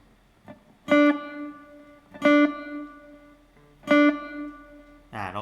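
An acoustic guitar note on the third string at the seventh fret, plucked and quickly muted to keep it short, repeats three times at steady intervals, each a clean bright attack cut off after a moment.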